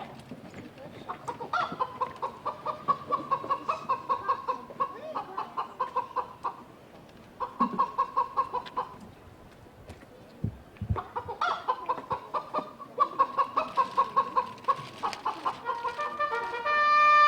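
Chickens clucking in a farmyard, a dense, close chorus of rhythmic clucks and cackles that pauses briefly, then resumes, with a thud in the quiet gap.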